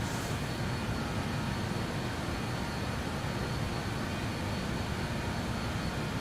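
Steady broadband engine roar of a BAE 146 jet airliner in flight in Microsoft Flight Simulator 2020, a constant loud drone with no breaks and no talking.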